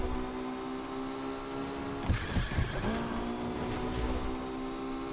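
Engine drone of a car in a driving video game during an exhibition drive, a steady low hum with a brief rougher burst of revving or scraping midway, fairly quiet and without speech.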